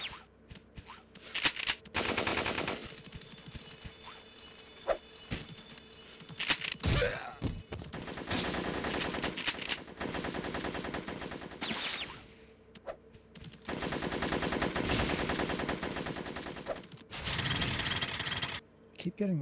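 Enemy gunfire in the Spyro 1 level Vortex, dense rapid bursts of shots and loud clattering blasts in long stretches, broken by short quieter gaps, with voices talking over the game.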